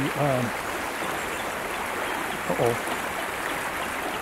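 Steady broadband rush of a river flowing near the woods, a constant close wash of water, with two brief voiced calls or bits of speech rising over it near the start and again midway.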